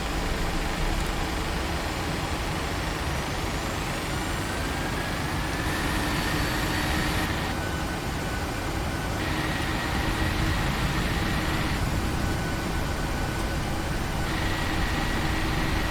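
Boeing 737-800 jet engines at takeoff thrust in a flight simulator, a steady loud roar that holds throughout, with faint rising whine tones layered above.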